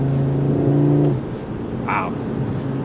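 An Audi RS3's engine pulls hard, a loud steady drone that drops off partway and settles into a lower rumble inside the cabin, with brief talk near the end.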